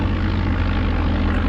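A propeller airplane engine roars at full takeoff power in Flight Simulator 95, a loud, steady drone with a throbbing low pulse and no voices.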